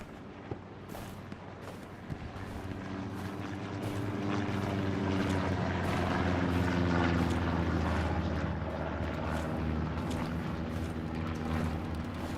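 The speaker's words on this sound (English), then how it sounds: "Recon plane going up on the front line." A recon plane drones over the front line in the Hell Let Loose video game at night. The propeller engine starts faint and builds into a steady, loud hum, with a distant thud or two of artillery at the start.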